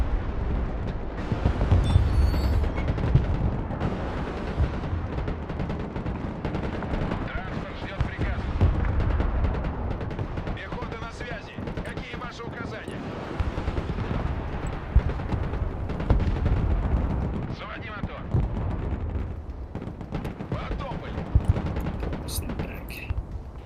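Tank cannon fire and explosions in the Broken Arrow battle game, heavy low booms and rumbling blasts rolling continuously at varied distances, dense and loud, with bursts of sharper impacts throughout.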